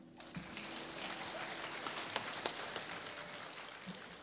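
A church congregation applauds together in a steady, fairly distant wash of clapping that holds evenly throughout, with scattered murmurs underneath.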